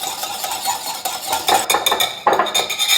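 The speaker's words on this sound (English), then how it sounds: "in another medium bowl, we're gonna whisk together the yogurt, the 2 tablespoons of lemon juice, and the vanilla" A whisk beats yogurt, lemon juice and vanilla together in a medium bowl, making close, steady scraping and clinking against the bowl that grows louder and quicker partway through, with no talking.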